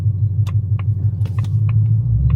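Deep, steady rumble of a supercharged 2024 Mustang GT engine idling close by, with a brief light rise in revs and faint ticking clicks over the low drone.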